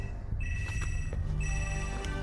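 A mobile phone with an antenna rings in the Metal Gear Solid PlayStation game, giving a steady electronic trill that repeats in short bursts over game background sound, with no talking.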